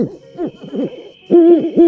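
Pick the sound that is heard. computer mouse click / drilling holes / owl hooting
owl hooting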